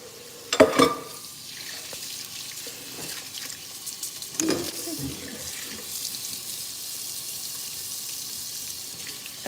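Tap water runs into a kitchen sink to soak used baking pans and utensils, a steady splashing hiss with a couple of louder clanks and surges early on, no voices over it.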